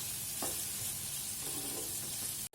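An omelette mixture seasoned with chili powder sizzles steadily in an oiled pan while a utensil stirs it with occasional soft scrapes, close and continuous, with a brief dropout near the end.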